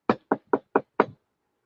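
Five sharp knocks on a window, evenly spaced and close, each a dry hard rap, the last slightly heavier, followed by silence; the knocks are acted out by a person.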